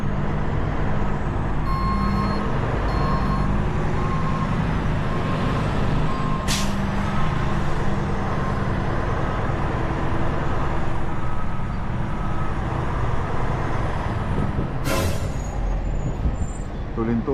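A truck backing up on a street with no parking, steady engine rumble and traffic noise, a few faint reversing beeps early on and sharp air-brake hisses around the middle and near the end.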